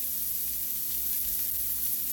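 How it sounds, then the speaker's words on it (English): Pork and turkey sausage sautéing in a pan, a steady broadband sizzle with a constant hiss, close and even throughout, no one speaking. "I'm going to go ahead and saute my sausage that I'm going to put in there."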